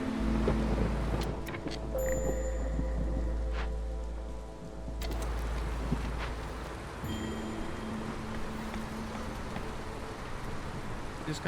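A rain storm over marshland in Against the Storm patters steadily and softly throughout, with a low rumble underneath that drops away partway through and small clicks and tones scattered on top.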